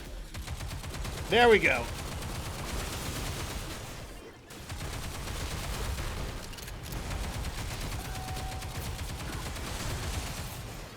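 Rapid bursts of gunfire ring out in Goddess of Victory: Nikke, a sustained rattling barrage with a loud spike early on, while a player talks over the shooting.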